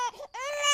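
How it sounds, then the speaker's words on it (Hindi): A newborn baby's first cry, a short wavering wail that breaks off briefly and then rises into a sustained, strained cry, close and fairly loud. "बस बच्चे की पहली रोने की आवाज गूंजी।"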